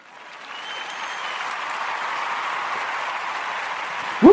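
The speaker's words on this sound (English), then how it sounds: "The crowd goes wild." Stock crowd cheering and applause effect, a broad wash of clapping that swells in over the first half second and holds steady, ending with a brief louder burst.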